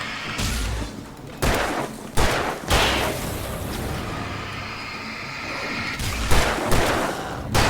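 Shotgun blasts from an old shotgun in the Alan Wake video game, several loud booming shots spaced a second or so apart, each followed by a rumbling tail over a constant dense ambient roar.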